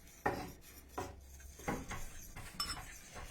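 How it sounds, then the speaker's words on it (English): Protein brownie batter being stirred in a bowl, a utensil scraping and knocking against the sides in four or five distinct strokes at a steady pace, close and clear with no talking. "Stir all that."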